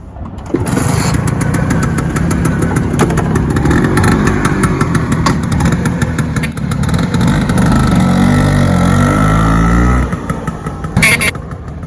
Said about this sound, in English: we're gonna show you how to start a bike for the first time after a few months